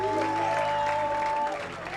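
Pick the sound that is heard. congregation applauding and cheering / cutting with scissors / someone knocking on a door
congregation applauding and cheering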